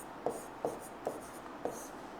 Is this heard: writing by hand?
yes